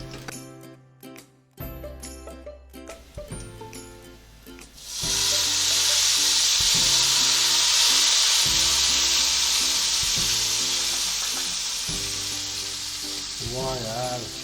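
Hot Punjabi tadka poured over kadhi erupts into a loud, sustained sizzle after a few seconds of clinking kitchen sounds, the frying hiss staying strong and slowly easing toward the end.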